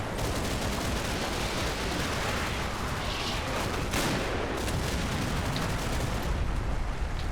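Dense gunfire and shooting in Combat Mission: Battle for Normandy form a continuous loud barrage of overlapping shots and blasts, steady for the whole stretch with no pauses.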